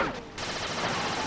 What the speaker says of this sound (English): this turret is really easy to control because it fires very,